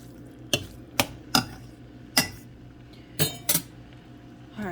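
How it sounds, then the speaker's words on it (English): Ground beef being broken up in a cooking pan, heard as a series of sharp utensil clacks and scrapes against the pan at irregular intervals over a low background hum. "So I'm gonna let it cook a little bit, break it up."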